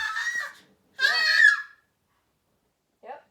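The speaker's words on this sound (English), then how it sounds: "my daughter was screaming" A young daughter screams in two high, piercing bursts, the second longer and rising, followed by a brief faint whimper after a pause, close and clear in an otherwise quiet room.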